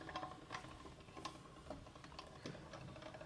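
Pasta dough feeding through a hand-cranked pasta machine's rollers gives a quiet, steady run of small ratcheting clicks and gear ticks, with soft rhythmic knocks from the turning mechanism and nobody talking.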